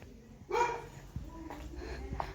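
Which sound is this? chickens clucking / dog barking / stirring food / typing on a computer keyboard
dog barking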